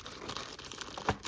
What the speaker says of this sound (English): I think I also have a plastic bag there that contains